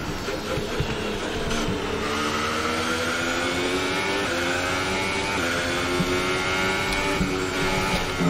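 A Formula 1 Ferrari engine in the F1 2018 video game revs hard at the Bahrain race, a loud, continuous, buzzing whine that rises and falls through gear changes, with no voices.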